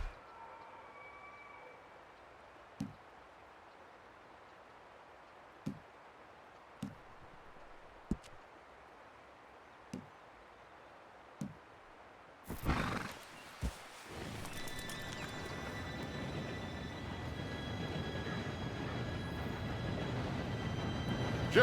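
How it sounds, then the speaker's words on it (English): In the video game Red Dead Redemption 2, scattered hoof clops sound first, then a steam train arrives as a heavy rumble that swells abruptly and keeps building, laced with high metallic squeals. "Train should be here any minute now."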